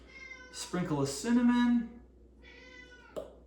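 Pipsqueak, a pet cat, gives drawn-out meows close by, one long wavering call followed by a shorter one, while a person talks briefly over them.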